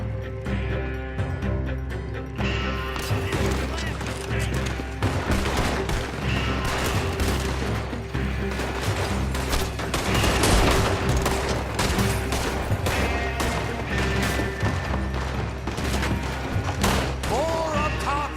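Dense gunfire from the video game Red Dead Redemption 2: rapid, overlapping shots and thuds fire continuously in a loud, chaotic fusillade, with shouted voices mixed in.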